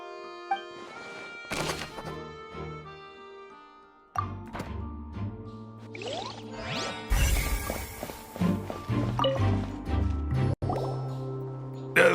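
In Genshin Impact, water drips onto a wet floor, scattered drips over a game soundscape with tonal hums, swooshes and clattering effects. The drips are sparse early and become denser and busier later.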